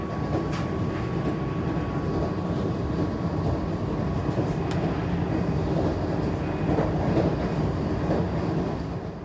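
The Patna–Ranchi Vande Bharat express runs on a speed-restricted section, heard from on board: a loud, continuous rumbling roar with faint rhythmic clicks of wheels over rail joints, steady throughout and without voices.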